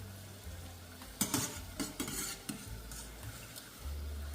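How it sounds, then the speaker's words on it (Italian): Zeppole di San Giuseppe frying in hot oil, with scattered stirring and clinking of a utensil against the pan over a low steady hum, a few louder bursts of sizzle and scraping. "Procediamo così con la cottura di tutte le nostre zeppoline."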